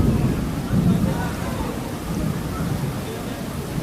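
Steady rain falls outside a mosque gathering, heard as continuous broadband patter with low rumbling wind noise and no distinct peaks.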